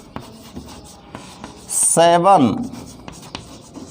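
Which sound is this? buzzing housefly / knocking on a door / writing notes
writing notes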